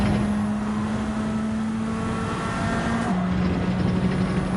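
Onboard engine of a CASCAR Cup Series stock car at Watkins Glen in Gran Turismo 7 drones loud and steady, its pitch holding and then dropping sharply as the car shifts, with no talk.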